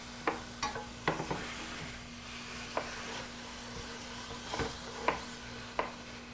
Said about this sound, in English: I'm just going to put the turkey into the pan. Let it start browning.